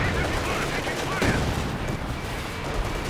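In the Company of Heroes 2 match on La Gleize, a Katyusha rocket barrage lands as a rapid cluster of sharp bursts and rumbling impacts, steady and moderately loud with no voice over it.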